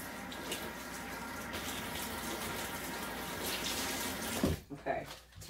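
Water runs steadily from a tap to wet a thrifted shirt, a close, continuous splashing flow that ends with a few brief gurgles and drips.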